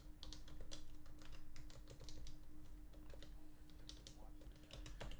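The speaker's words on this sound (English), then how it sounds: "I'll type it." Fast typing on a computer keyboard during an online class, a busy run of light clicking keystrokes in uneven bursts, fairly faint and close, with no talking.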